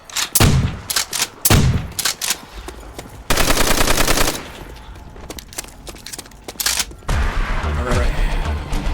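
Browning machine gun in the zombies mode of Call of Duty: World at War, firing in loud rapid bursts, with a long sustained stream in the middle, then heavy continued fire near the end.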